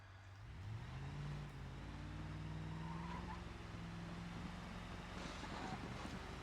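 A damaged Gravil D-Series four-wheel-drive truck in a video game drives at close range; its engine drones low, its pitch climbs as it revs, then it holds a steady strained hum.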